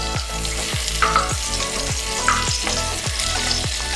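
Onion and garlic frying in a pan for Jamaican ackee and saltfish, a loud, continuous sizzle close by, broken by regular stirring scrapes about every half second, with no talking.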